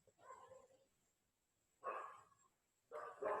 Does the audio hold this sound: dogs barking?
yes